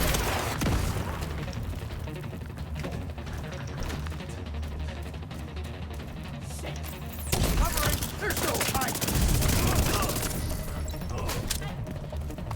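Dense, continuous video game gunfire in The Division 2, with rapid bursts, booming impacts and mechanical clatter layered throughout, growing heavier partway through, and a voice talking faintly underneath.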